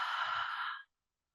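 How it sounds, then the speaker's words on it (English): A single deep, breathy exhale during a yoga core class, a steady airy rush lasting under a second that cuts off cleanly into silence. "Full breath in, full breath out"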